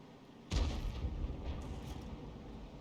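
A heavy boom from a tank destroyer's gun in World of Tanks goes off once, loud and sudden, then rolls into a long, fading rumble with no one talking over it.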